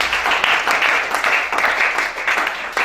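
A church congregation at a teaching service applauds God, a dense, loud, continuous clapping that holds steady throughout with slight swells.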